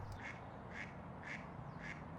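Ducks quack near a mink's den by a pipe, four evenly spaced nasal calls sounding faint and somewhat distant against a steady outdoor hiss.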